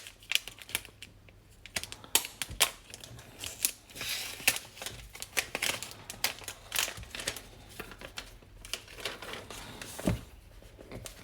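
A purple iPhone 11 128 GB box being unpacked, with close crinkling of packaging, sharp clicks and scraping handling sounds in irregular bursts, no voices.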